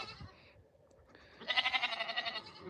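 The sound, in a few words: Nigerian dwarf and Nubian hybrid baby goats bleating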